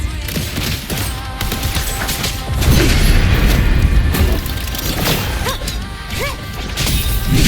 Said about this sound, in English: Another mortar thrown at us.